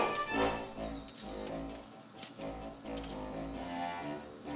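Crickets chirping in the ant strategy game Empires of the Undergrowth, a dense, steady insect trill with game music and battle noise layered underneath, continuous and fairly loud throughout.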